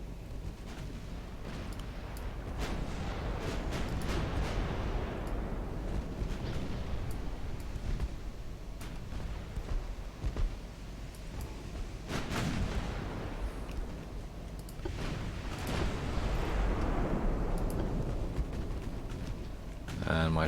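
Warship gunfire in Ultimate Admiral Dreadnoughts during a British 1900 campaign battle: deep, rolling naval cannon booms and long rumbling decays over steady wind and sea noise, with heavier blasts around the middle and near the end.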